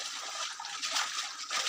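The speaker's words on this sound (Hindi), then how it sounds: "तो मैं आया हूँ अभी पानी भरने के लिए" Water pouring and sloshing as a bottle is filled at a stream at dusk, a steady splashing trickle with slight surges, fairly faint and uninterrupted.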